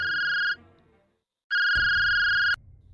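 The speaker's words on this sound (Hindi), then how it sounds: "विक्रांत सिन्हा स्टेशन से बाहर निकलते हैं कि तभी कांस्टेबल गुप्ता का फोन आता है।" A phone ringtone sounds in two bright electronic bursts separated by a pause, loud and close, set in a Hindi horror story.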